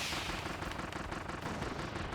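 Kirby's gun ability fires in Kirby and the Forgotten Land, a dense stream of rapid blasting shots that pounds along without pause.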